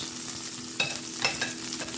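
Chicken browns in a pan with a steady sizzle, broken by a few sharp stirring or turning scrapes close by.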